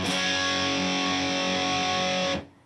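One distorted electric guitar power chord, high E string muted, strummed and left ringing, thick and loud, then cut off abruptly.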